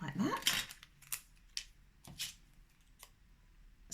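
Scissors snip through a paper origami shirt-and-tie template in several sharp, separate cuts spaced irregularly, close and crisp against a quiet background.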